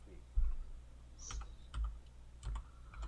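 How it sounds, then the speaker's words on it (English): Typing on a main computer keyboard, heard as sparse, quiet key clicks and thumps in small clusters, close by, with soft background noise. "I'm trying to type on my main keyboard"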